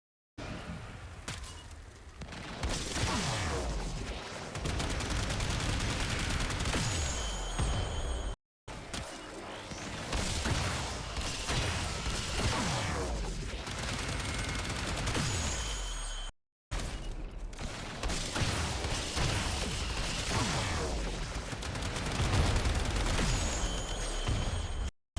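Rapid, loud gunfire from the Buzlok rifle during a Warframe Eidolon hunt, a dense run of shots and booming impacts in three long bursts separated by brief cuts.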